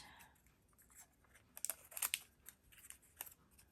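Scissors snip through paper film strip in a few quick, crisp, close cuts with light paper rustling between them, faint and sparse.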